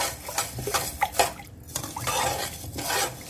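Chicken and vegetables being mixed with salt in a bowl for a stir fry, producing irregular scraping and clinking of a utensil against the dish, close and clear with no talking.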